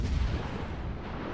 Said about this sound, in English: And really, most of my shots have been long range.